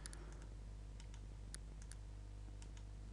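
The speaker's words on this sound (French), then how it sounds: "un clic gauche et j'appuie avec la molette de la souris" Sharp computer mouse clicks, a left click and a scroll-wheel press, scattered crisp taps over a steady low hum, close and fairly faint.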